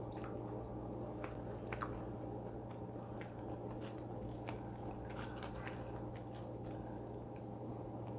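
Someone eats rice with salted squid close up, with soft wet chewing, squishy bites and small clicks over a steady low background hum.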